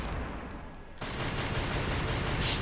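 Rapid continuous gunfire from held-down pistols in the video game Devil May Cry 2 rattles as a dense, loud stream of shots that grows fuller partway through, with no talking.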